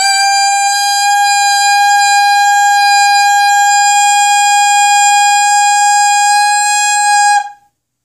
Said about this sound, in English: With just the mouthpiece, if you played this into the tuner, it should be somewhere near a G sharp